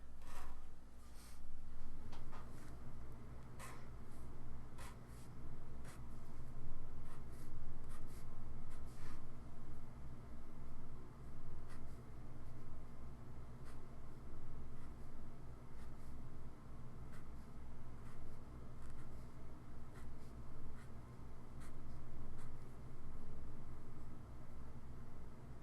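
A pencil scratches out rows of bricks on paper for a two-point perspective building drawing, giving steady close scratching and rubbing strokes with short rhythmic ticks, continuous and alone over faint background hiss.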